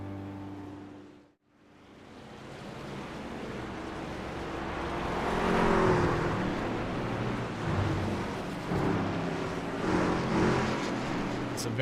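Race cars pacing around an oval at Kansas behind the lead vehicle before the start, a steady rising engine drone that briefly dips, then builds into a broad sustained roar with wind-like rush.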